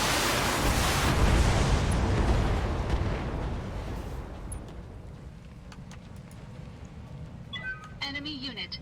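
An enemy mech exploding in BattleTech: Heavy Metal, a big roaring blast that swells and slowly fades over several seconds, followed by quieter game effects and a voice.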